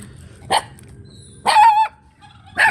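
A black dog barks close by in three separate bursts, the middle one longer with a tonal, whining edge, in an otherwise quiet room.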